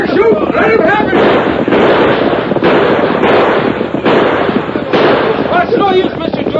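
Radio drama gunfire, a rapid run of sharp cracking shots that keeps popping throughout, loud and busy, with voices talking over them.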